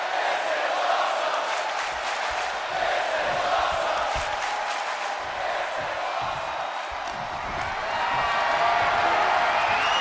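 A crowd roars steadily throughout a WWE 2K24 steel cage match, a dense sustained wash of cheering with thuds and a commentator talking over it.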